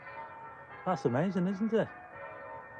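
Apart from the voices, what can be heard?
church bells ringing outside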